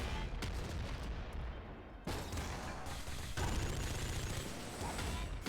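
Video game gunfire from Nuclear Throne: rapid bursts of shots and explosive blasts overlap in a dense, loud barrage with brief gaps between volleys.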